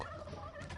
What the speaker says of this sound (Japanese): 鶏めっちゃおるやん。